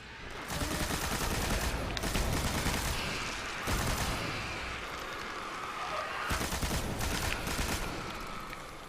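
Sustained machine gun fire and explosive bursts in the Destiny game, The Dark Below expansion against the Hive, with dense continuous rattling broken by brief pauses.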